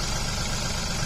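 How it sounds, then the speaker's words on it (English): A Royal King RK37 tractor, a 37-horsepower four-wheel-drive model, idles close by with a steady, even low rumble and constant vibration and no voices over it. "So that's an RK tractor, RK37 from Royal King"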